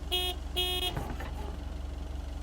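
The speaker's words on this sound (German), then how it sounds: "Ich hab gehupt." A mail van's horn in a video game honks twice in short bright blasts, followed by a clunk and a steady low engine hum.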